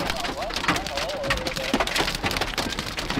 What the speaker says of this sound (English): It is literally pouring hail